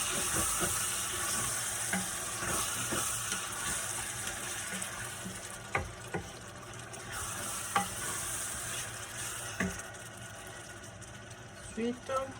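Red and yellow bell peppers sizzle in a pan while being stirred, a steady frying hiss broken by scraping utensil clicks and knocks against the pan.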